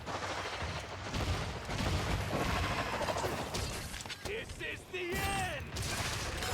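Apex Rathian's fireball blasts in a Monster Hunter game come as a series of loud booming explosions and roaring bursts, with a monster screech near the end, close and dense.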